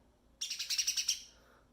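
A sparrow chirps in a children's stage play, a quick series of about eight bright, evenly spaced tweets sounding alone in a quiet room.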